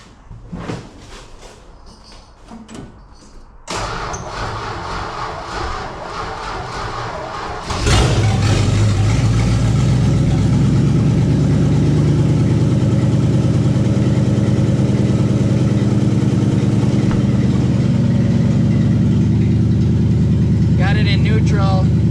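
A Pink Duster car is cranked over and catches, its engine settling into a loud, steady idle that rumbles on close by for the rest of the stretch.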